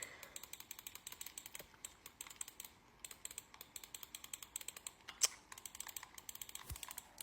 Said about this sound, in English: You can see how fast I really am clicking.